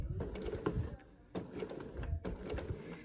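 A sewing machine stitches a pocket onto an apron in three short, rapid mechanical bursts separated by brief pauses, close and fairly quiet.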